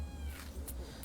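A cat gives a short, close meow or two, fairly quiet over a low background hum, with no talk.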